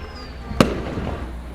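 A single firework bursts with a sharp crack at a distance over quiet background hum, part of a city Independence Day celebration.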